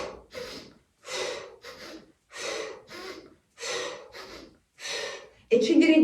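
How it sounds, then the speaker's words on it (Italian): Rapid, forceful breath of fire breathing exercise in a shamanic ritual, with seven or eight sharp bursts of nasal exhaling and inhaling at a steady rhythm, close and loud. "respiriamo sempre con il respiro di fuoco che serve a bruciare tutti i pensieri della mente"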